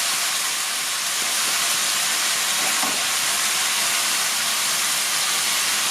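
Pork ribs frying in a pan, a steady, loud, broadband sizzle that hisses continuously with no talking over it.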